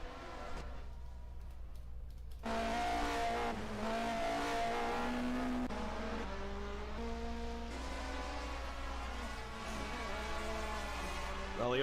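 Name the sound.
race car engine heard on board, from a racing video game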